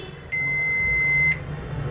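A Realme Narzo 35 5G phone gives a single steady high electronic beep lasting about a second as it powers on, close and clear over faint room noise, with no talk.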